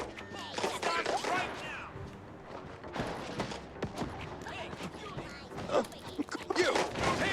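Rapid gunfire and clattering mechanical impacts in the first-person sci-fi game System Shock 2, bursts of shots mixed with metallic crashes and creaks, busy and loud throughout, with occasional speech underneath.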